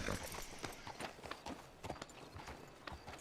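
Horse hooves clip-clopping steadily in a video game as the rider sets off hard, a brisk, evenly spaced run of close hoofbeats over a busy game soundscape.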